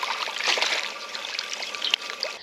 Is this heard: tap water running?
yes